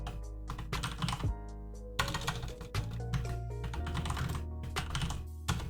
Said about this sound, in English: We know how to connect the keyboards to computers and then type them while we're in the middle of the podcast.